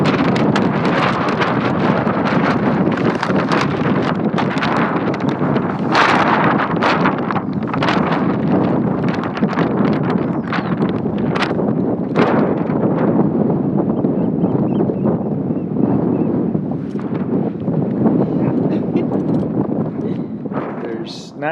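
Strong Shetland wind buffets the microphone in loud, continuous roaring gusts with sharp bursts, while a person speaks underneath.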